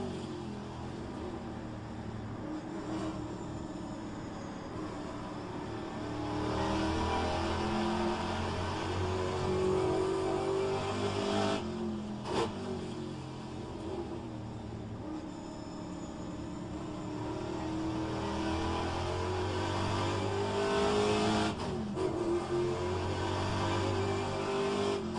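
A Plymouth Barracuda race car engine in a racing video game, a continuous loud roar rising and falling through gear changes, with brief sharp clicks at a few moments.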